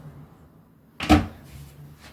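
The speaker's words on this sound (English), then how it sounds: "close your door" A door being closed: one short, solid thump after a quiet lead-in, followed by a faint trailing rattle, close and alone.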